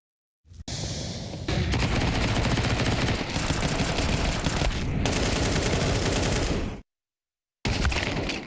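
Dense automatic gunfire and rapid shots in Counter-Strike 2 on the Inferno map during a pro match, loud and continuous bursts for several seconds, a brief silent gap, then firing resumes.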